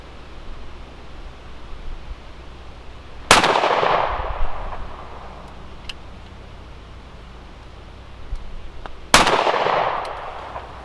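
Two sharp, loud gunshots from a Smith & Wesson Shield Plus pistol at an outdoor shooting range, spaced about six seconds apart, each followed by a short echoing tail over a low background hiss.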